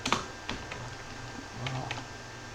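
Typing on a computer keyboard while entering a database table command, a few sharp, close key clicks spaced irregularly over a quiet background.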